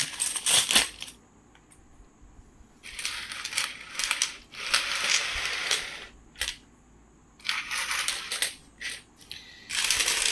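Indian coins, including a 2023 two-rupee coin from the Noida mint, clink and rattle as they are handled out of a packet of 25, in bursts of metallic jingling separated by short pauses, close and fairly loud.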